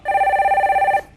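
A telephone rings once for an incoming call on a Korean radio call-in show, a loud, close, warbling electronic trill held for about a second before cutting off.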